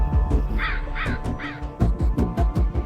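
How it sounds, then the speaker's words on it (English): Several crows caw in a run of harsh, repeated calls, some overlapping, loud and close in an outdoor setting, with no voices. "There's the crows"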